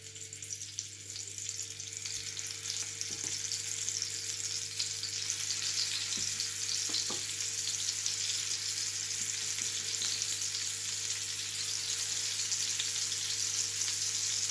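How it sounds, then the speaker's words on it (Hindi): Mutton gola kabab frying in oil in a preheated pan, a steady, hissing sizzle with a constant low hum beneath and a few faint clicks, close and unbroken. "अब करते हैं फ्राई। पैन हमारा प्रीहीट हो चुका है। अब थोड़ा सा ऑयल ऐड करती हूँ।"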